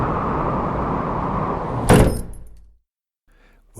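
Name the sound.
wooden inn door pushed closed against storm wind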